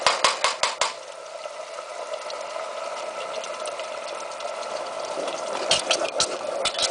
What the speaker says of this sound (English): mixing around to incorporate the garlic, the oil, nice diffusion into each other